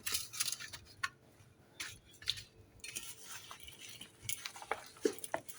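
Eggplant pieces being tossed with olive oil, sesame seeds, paprika and salt, giving faint close clinks and scrapes of a utensil against a bowl in an irregular rhythm.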